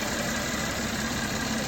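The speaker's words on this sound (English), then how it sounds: "And it's idling now nice." A Mercedes M276 engine idling smoothly after a PCV replacement, a steady, even hum with no voices heard.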